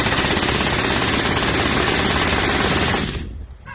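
Automatic gunfire at an outdoor shooting range, a 60-round burst roaring as a dense, continuous rattle for about three seconds, loud and close, then cutting off abruptly into fading echo.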